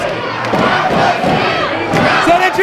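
A wrestling arena crowd roars and shouts together in a loud, sustained wave of cheering and battle cries, filling the whole moment with dense overlapping voices.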